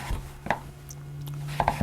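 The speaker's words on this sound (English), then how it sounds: "I need to chop this up next. I want to chop it into 1-inch" Knife chopping butternut squash into 1-inch chunks on a cutting board, a few sharp thuds in quick succession over a low steady hum, close and clear.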